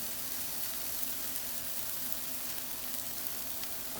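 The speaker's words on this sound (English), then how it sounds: "we're gonna throw some in the skillet" Onions sizzling and frying in a hot skillet, a steady dense crackle that holds evenly throughout with no voices over it.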